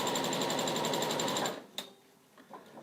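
A domestic sewing machine runs a fast, steady stitch through fabric for an NHS scrubs bag, loud and close for about a second and a half, then stops, leaving a few faint clicks and handling noises.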